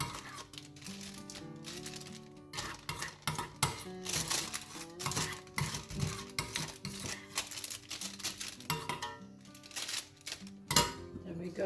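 Melted candle wax for a Valentine's candle with hearts, chocolate and roses is scooped from a container, giving irregular scraping and clinking strokes close up against a background of music.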